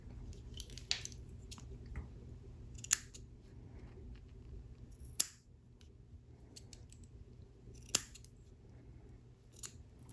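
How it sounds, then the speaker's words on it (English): Scissors snipping the tip off a thick cotton wick for a Solomon mesh RTA vape coil, several faint, sharp clicks and crunchy cuts spaced a couple of seconds apart over a quiet background hum. "I'm actually just going to cut a tip off of here to make it a little bit easier, because it is thicker"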